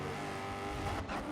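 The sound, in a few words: race car engine and tires in GRID 2019 video game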